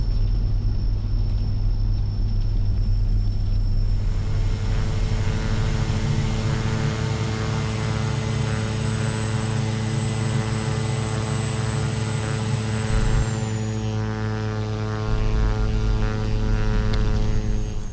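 Steady droning propeller hum from a King Air C90B twin turboprop taxiing after landing at Pullman Moscow Regional Airport in X-Plane, a continuous close roar with a high whine that shifts in pitch partway through.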